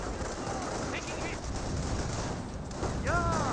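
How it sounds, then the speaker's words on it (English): Infantry rifle fire crackles through a Company of Heroes battle, scattered overlapping shots and bursts over a steady din of combat, with a voice talking over it. "Volksgrenadiers firing away against them."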